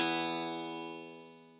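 An acoustic guitar chord fretted with the index finger at the 7th fret on the second string, strummed once and left ringing clearly alone, decaying slowly over its sustain.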